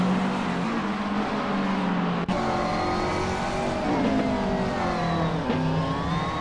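GT race cars circling the Magione track in a racing video game, engines droning loudly and steadily with rising and falling pitch as they shift and pass a slower lapped car.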